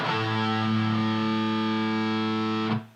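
A heavily distorted electric guitar rings out a single low A note, sustained loud and buzzing for nearly three seconds before it's choked off.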